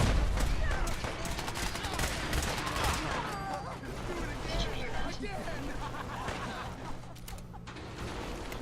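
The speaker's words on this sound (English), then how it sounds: "I hear a legendary gunner up there." Gunfire in Fallout 4 from a legendary gunner: dense, continuous bursts of shots over busy game noise and a low rumble, sustained loud throughout with no clear pauses.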